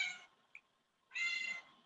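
A cat meows twice indoors, two fairly loud, drawn-out cries separated by a pause with a brief faint chirp between them, close to the listener and with no talking.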